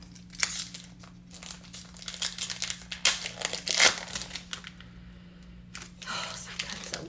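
Foil wrappers on Lorcana trading card packs crinkle and tear as they are opened, crisp close rustling in bursts over a steady low hum, with a voice talking in between.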